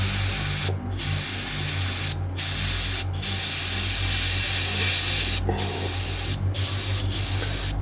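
An airbrush hisses steadily as it sprays paint onto an Ork Flying Coffin bomber model, the close, loud spray broken by several brief pauses between bursts.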